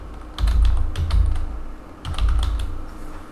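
Typing on a computer keyboard while filling out an online tax return form, with bursts of clustered key clicks separated by short pauses, close and moderately loud over a low background hum.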